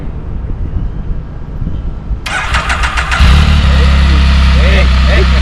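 A Can-Am Spyder three-wheeled motorcycle cranks briefly and catches, then settles into a loud, steady close-up idle, with people talking nearby.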